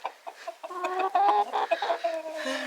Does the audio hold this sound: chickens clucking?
yes